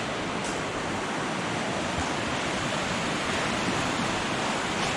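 The Colorado River rushes below a large suspension bridge in the Grand Canyon in winter, a steady, dense roar of moving water with no pauses and no voices.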